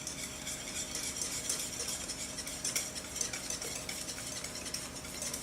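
Banana chocolate chip muffin batter being stirred by hand in a bowl, a steady scraping, sloshing churn at close range with no talking.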